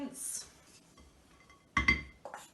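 Mixed peel drops into a bowl of hot cross bun ingredients, giving soft close clinks and rattles of glass and utensils, with brief talk.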